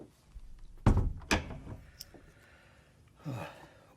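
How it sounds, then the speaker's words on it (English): A door shuts with a couple of solid thunks, heard in the quiet of a radio drama, followed later by a softer shuffle or rustle. "Shut the door."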